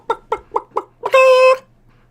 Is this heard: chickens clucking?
yes